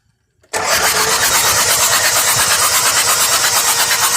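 A Toyota Hilux 2KD-FTV diesel with an injector washer fault, smoke and low power cranks and catches abruptly after a moment of near silence, then settles into a loud, steady, clattering idle close by, with no talking.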